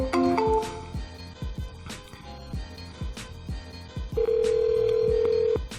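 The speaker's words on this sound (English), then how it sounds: "Dialing from a computer is mad different." Computer-generated dialing tones play in quick succession, followed by a long steady beep, over a muffled background of soft clicks and thumps.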